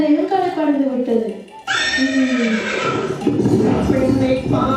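A horse neighs loudly and clearly during a Tamil heritage stage play, giving a long descending whinny followed by a second high, bright call.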